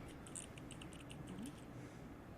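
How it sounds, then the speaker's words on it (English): Light, quick keystrokes on a computer keyboard in a VRChat session, with a short burst of irregular clicks that fade after about a second and a half. The clicks are faint and sit over a steady background hum. "You're typing, and I enjoy it."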